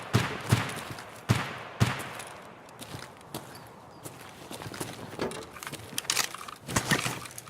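Gunshots in a video game, a few sharp isolated cracks early on followed by scattered lighter impacts and shuffling movement, fairly close and unaccompanied by talk.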